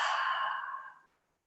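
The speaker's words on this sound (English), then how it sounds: "And open the mouth, exhale." A single long open-mouth exhale during a gentle yoga breathing exercise, soft and breathy, close to the ear, fading out after about a second into silence.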